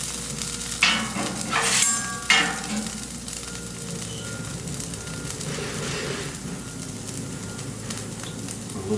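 Food sizzles steadily on a Camp Chef FTG600 flat top grill while omelet filling cooks, with a continuous close frying hiss and a couple of brief scraping or stirring bursts near the start.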